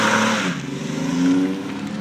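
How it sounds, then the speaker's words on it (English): A car engine revs hard under heavy throttle with a steady, loud, close whine that holds through the whole moment, with no talking over it. "Go, hit the gas. You gotta stay on the gas."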